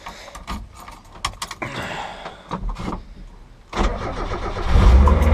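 A Mazda Miata engine turns over and catches, rising to a steady, loud running rumble after scattered handling clatter and knocks, close by with no talk.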